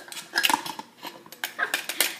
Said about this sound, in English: we're going to get a spoon here and just mix it in here